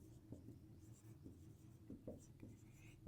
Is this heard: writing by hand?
yes